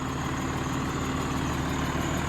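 A 2006 TM140 farm tractor idling steadily, a continuous low diesel rumble with an even throb, heard close and alone.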